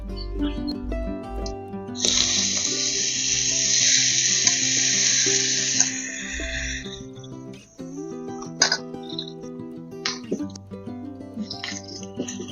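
Bottle gourd hits hot oil in a pan, setting off a loud burst of sizzling that lasts a few seconds and then settles, with background music playing throughout.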